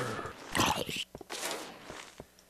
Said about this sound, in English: Oops, I hear all kinds of footsteps.